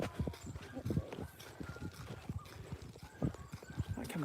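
A horse walking outdoors, hooves clip-clopping in an uneven steady rhythm close by, with a faint snort or whinny and some background movement.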